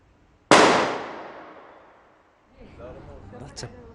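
A single loud gunshot at a SWAT team challenge cracks sharply and rings out in a long decaying echo, followed by faint voices and a quieter, distant metallic clank.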